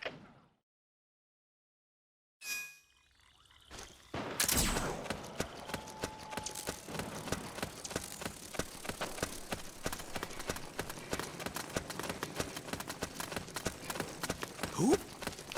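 Footsteps crunch through a South American jungle in the Metal Gear Solid 4 video game, a steady run of soft rhythmic steps after a brief thump, continuing at moderate level over faint ambient background.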